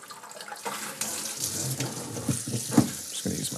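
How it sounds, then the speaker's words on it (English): Tap water runs steadily into a sink while homebrewing equipment for a dark ale is rinsed, a continuous close splashing rush with a few soft knocks and clatters of gear. "It's always good to rinse your equipment at the very least."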